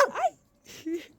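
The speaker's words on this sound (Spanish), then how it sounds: "Unos perritos," Small cachuspín (cocker spaniel) dogs at a country house give a couple of short, close yips and whimpers, separated by a brief pause, with a voice briefly present.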